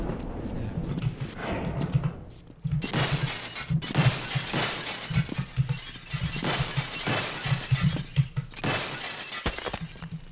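Glass stairs shatter repeatedly in a video game, with loud, bright crashing bursts and tinkling debris in several waves over about ten seconds, set against a low droning background.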